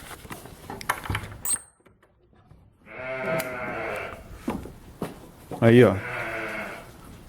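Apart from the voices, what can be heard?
sheep bleating in a backyard field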